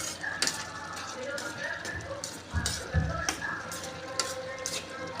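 Carrot halwa is stirred in a pan, with a soft sizzle and a spoon scraping and clinking in irregular strokes, fairly quiet, while someone talks.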